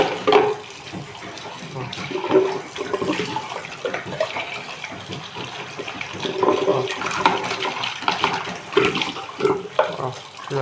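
Detergent is poured into boiling water and dissolved for a laundry wash test. Water runs and splashes continuously with gurgling surges, and a voice speaks briefly over it.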